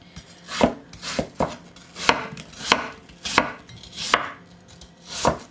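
Apples sliced with a knife on a cutting board for apple pie filling: about eight crisp, evenly spaced cuts in a steady rhythm, close and clear with no talking.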